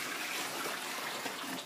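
Sugar water, a simple syrup for kombucha, pours steadily into a jar, making a continuous close splashing gush.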